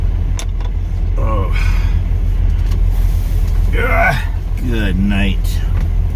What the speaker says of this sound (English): I'm in my truck.